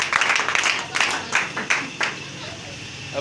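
A church congregation applauds in several quick bursts of hand clapping, fairly close and lively, with a voice speaking over the claps.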